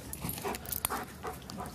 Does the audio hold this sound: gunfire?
no